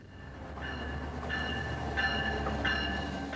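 Rail Runner commuter train passing in Santa Fe, with a steady low rumble throughout and sustained horn-like tonal blasts at intervals, moderately loud and close, no talking.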